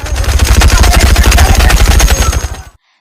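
Rapid, loud bursts of anime gunfire as Ritsu shoots at Koro Sensei during class form a continuous rattling barrage that cuts off suddenly near the end.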